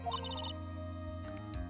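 Short electronic phone ringtone from the Phoenix Wright: Ace Attorney video game, a quick run of bright repeated beeping tones over a sustained musical drone, heard up close with no talking.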